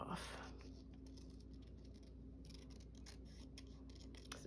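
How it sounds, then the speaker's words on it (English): Scissors cut a paper strap off a collage handbag in a series of quick, crisp snips. The snips are close but quiet and sit over a steady background hum. "I'm going to cut that strap off"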